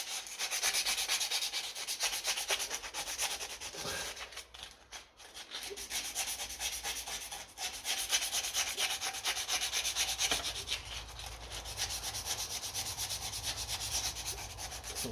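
Steady, continuous rubbing of sandpaper roughing up a fork tube on a 1968 Triumph T100C motorcycle, close and fairly loud, with a brief dip in the strokes partway through and no talking.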